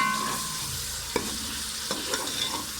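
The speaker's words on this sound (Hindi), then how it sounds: "इस तरह आप फ्राई करके बनाएंगे" Green chilli and ginger-garlic paste frying in a pan for a dhaba-style white lobia masala, a steady close sizzle with a few sharp stirring scrapes, no talking.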